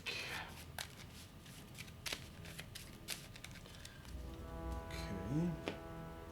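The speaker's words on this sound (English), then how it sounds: "we forgot to shuffle our hit location deck after that Wailing Slide" A Kingdom Death Monster hit location card deck being shuffled by hand at a tabletop game, with soft riffling and flicking of cards in bursts, followed by talking toward the end.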